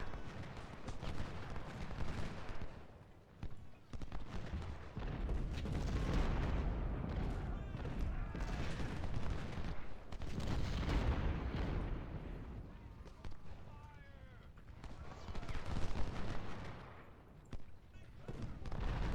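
Musket volleys and artillery fire from a Civil War video game battle at Harper's Ferry form a dense, continuous roar of crackling shots and deep booms, with someone speaking under it.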